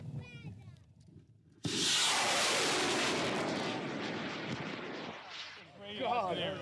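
A homemade rocket launches after a countdown, bursting into a sudden loud, sustained roaring whoosh that fades after a few seconds, with voices talking before and after.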